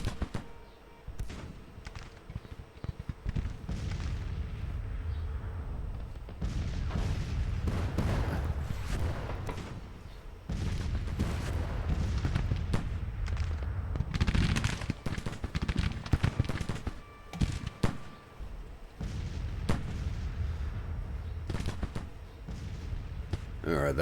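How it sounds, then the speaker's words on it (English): Artillery and rifle fire in a Civil War strategy video game, booming thuds and crackling volleys scattered densely throughout, with someone talking over the battle noise. "after all the artillery fire"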